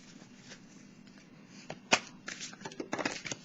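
A tarot deck is being shuffled, with soft riffling and flicking of cards close by. A sharp slap near the middle may be a card dropping from the deck, followed by more quick rustles.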